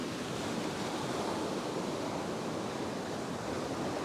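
Powerful ocean surf breaking on a beach during bait fishing, a loud, continuous wash of crashing water with steady roar and wind, no voices.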